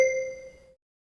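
A single bell chime used as a cue in a French language lesson rings out once, clear and bright, then decays to silence within under a second.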